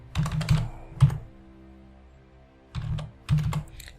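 Phone number being typed on a computer keyboard into a form, two short bursts of close, quick key clicks separated by a pause of about two seconds.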